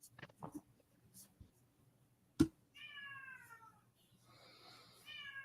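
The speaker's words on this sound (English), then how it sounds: "I heard a giant meow." A cat meows loudly and close at hand, with one long drawn-out call followed by a second meow starting, over a quiet room during an online game session.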